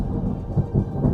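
Deep rolling thunder from a winter storm, a low rumbling swell with a soft rain-like wash over it, fairly loud and continuous with no voices.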